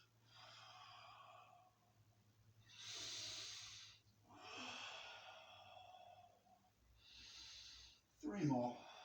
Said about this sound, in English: So each time we move, we exhale.